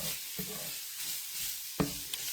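Vegetables sizzle steadily in a cast iron pan as chicken pot pie filling, a soft, continuous frying hiss with a couple of brief stirring clinks and scrapes.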